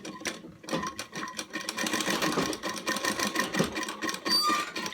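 A sewing machine stitching very thin elastic for a small dhoti, a loud continuous rapid mechanical rattle that runs steadily throughout.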